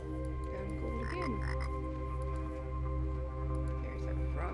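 Frogs croak in the game Tower of Time in repeated, overlapping calls over a steady ambient drone.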